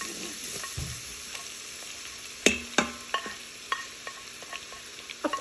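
Garlic dropped into hot oil in an Instant Pot, cooking for yellow and orange moong and masoor daal, gives a steady soft sizzle with a run of sharp clicks and scrapes from stirring, fairly close and with no talk.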